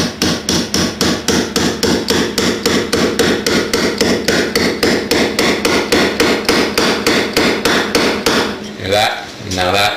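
A small metal hammer drives a wooden piece into place in hand woodworking, striking in a steady, rapid series of sharp close knocks for most of the span, then a brief pause and a final few blows.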